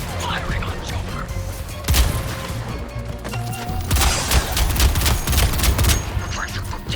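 Rapid bursts of gunfire and heavy weapon blasts from the video game Suicide Squad: Kill the Justice League, loud and dense, with repeated volleys and crashes crowding the scene.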